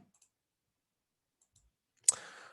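A single crisp mouse click on a software button rings out close and clear after near silence, with a short faint tail fading away.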